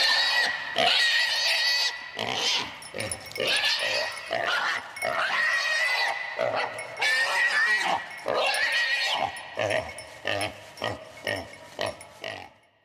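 A wild boar squeals and grunts in shrill, repeated bursts while a hunting dog, a fox-terrier and Fauve de Bretagne cross, catches it in dense big-game woodland; the cries come close and loud, in irregular clusters that break into short separate yelps toward the end.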